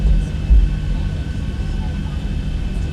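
A ZiboMod Boeing 737 taxiing out in X-Plane 11 in strong wind, its engines giving a loud, steady, continuous drone with a faint whine throughout.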